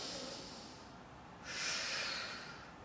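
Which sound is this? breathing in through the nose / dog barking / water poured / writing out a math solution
breathing in through the nose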